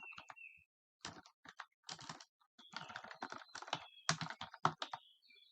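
Someone types "command line" on a computer keyboard: quiet, irregular bursts of keystrokes separated by short pauses, with no voices.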